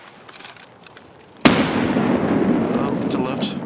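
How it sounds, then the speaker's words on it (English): A grenade explodes in the Escape from Tarkov game: a sudden loud blast with a long rumbling decay follows a quieter stretch of faint background noise. "I'm gonna toss a nade. Tossing a nade."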